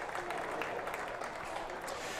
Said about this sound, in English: Appreciated by the crowd here at Glamorgan